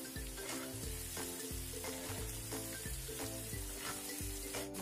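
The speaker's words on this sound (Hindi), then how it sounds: "बहुत ही बढ़िया हमारे मशरूम फ्राई होने लगे हैं।" Mushrooms fry in butter with garlic, onion and spices, giving a steady loud sizzle broken by repeated stirring scrapes in a regular rhythm.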